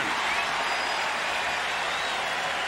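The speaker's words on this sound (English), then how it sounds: "The roar of the crowd as the two teams take the field." A stadium crowd at a 1999 Notre Dame versus Kansas college football game roars and applauds in a steady, broad wash as the teams take the field.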